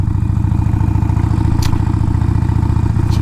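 Harley-Davidson Iron 1200 motorcycle ridden along a bumpy road, loud steady close engine drone with a throbbing low rumble and a couple of brief knocks from the rough surface.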